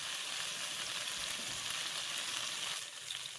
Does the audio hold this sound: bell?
no